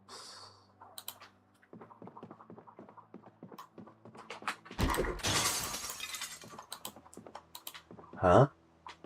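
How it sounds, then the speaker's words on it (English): A window shatters in the zombie survival game Project Zomboid, a loud burst of breaking glass over soft keyboard clicks and mouse taps, with a sharp second crash near the end. "I just smashed that window from over there."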